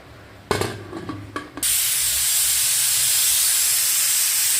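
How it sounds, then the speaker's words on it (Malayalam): A pressure cooker cooking tapioca with green chilli and salt gives a few short sputtering bursts, then bursts into a loud, steady, high steam hiss that holds to the end with no talking. "മൂന്ന് വിസിലടിക്കുന്നുണ്ട് കേട്ടോ."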